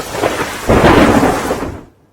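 Heavy monsoon rain pours near the Jamjir waterfall on the Singvada river in Gir Somnath, Gujarat, with a loud rolling thunder crash that swells, then fades quickly to silence.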